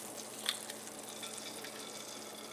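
An egg frying in butter in a hot pan gives a steady, even sizzle throughout, with one brief louder crackle near the start and no talking.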